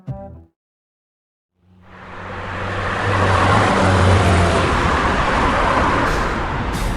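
A car driving, arriving after a short thump and a second of silence as a rising engine and road rumble that swells into a steady, loud roar of tyres and motor.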